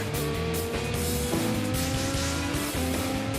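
IndyCar race car driven by Scott Dixon at Indianapolis, heard from on board as a loud, sustained engine roar with steady harmonic whine and shifting pitch, continuous throughout with no talk.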